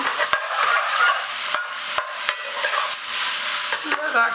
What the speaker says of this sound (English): The onions is caramelising.